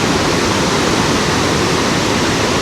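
Li Phi waterfall on the Mekong River in southern Laos, a loud, steady roar of rushing water that stays constant and dense throughout, with no other sounds.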